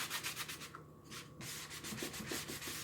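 Steady rubbing and buffing of a freshly painted Chalk Couture house frame from a Christmas countdown kit, a continuous close scratchy friction with brief pauses and rhythmic strokes, no talking.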